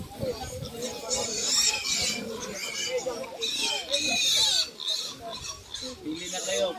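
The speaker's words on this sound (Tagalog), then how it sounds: "Ito yung mga biik ni Thessalonica." Native piglets on a farm squealing and oinking in a steady, busy chorus that runs the whole time, with people talking over the animal noise.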